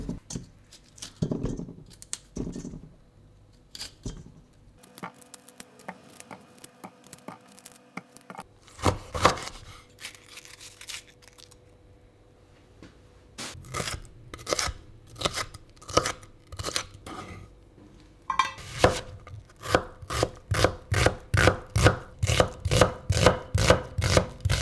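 A knife slices an onion into thin pieces on a board, scattered cuts at first, then a fast, even run of crisp close chops toward the end, with no talk.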